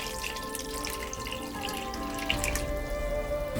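About 500 ml of water is poured into a braising pot with pork hock, soy sauce and cooking wine, making a steady close splashing trickle over background tones.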